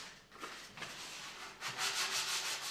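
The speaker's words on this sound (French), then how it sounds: "il vaut mieux poncer encore le banc" Sandpaper rubs back and forth across a wooden bench to strip the last of an old protective coating, with a few soft strokes that grow into steady, louder scraping passes.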